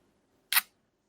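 A Leica M2 rangefinder shutter firing once at 1/50th of a second gives a single crisp, close mechanical click, short and bright, alone in near silence.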